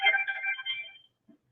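A phone ringtone chirps once during an online meeting, a bright electronic trill lasting about a second, fairly quiet and heard alone.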